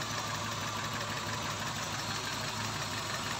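A car engine idles unevenly, giving a steady, close, continuous mechanical drone with no voices.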